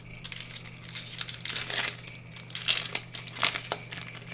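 A Magic: The Gathering Time Spiral Remastered booster pack's foil wrapper crinkles and tears open in close, bursty crackles over a faint steady hum.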